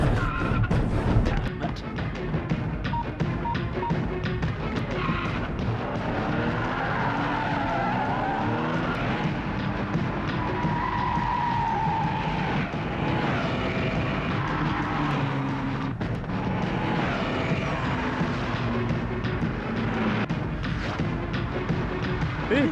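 A car peels away with squealing, skidding tires in a loud, sustained rush of engine and road noise, carrying off a kidnapped woman.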